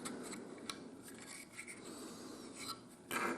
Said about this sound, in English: By rubbing it back and forth